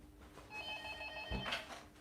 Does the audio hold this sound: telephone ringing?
yes